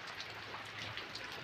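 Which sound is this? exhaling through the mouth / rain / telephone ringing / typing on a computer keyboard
rain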